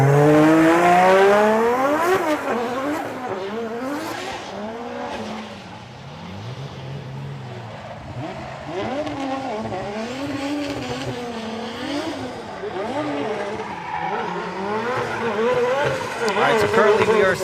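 Formula Drift Japan 2024 Round 2 drift car running off track and spinning out, loud engine howling and revving with rising, falling pitch and tire skid noise throughout, under an excited commentator's voice.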